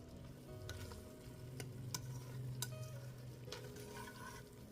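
Homemade tomato sauce simmering with a cheese stick or Parmesan rind dropped in, a steady soft bubbling and sizzle running throughout with a few sharp clicks and pops, close and moderately loud with no voices.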